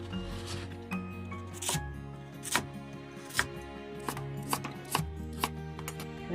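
A knife cuts a radish lengthwise in a series of sharp, irregular cuts against a board, close and moderately loud over faint background music.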